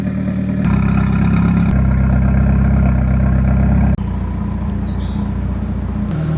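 A Mitsubishi Evo with a stage 2 clutch pack in its SST gearbox starts and settles into a loud, steady idle, the engine note shifting once partway through, with faint birds chirping in the background.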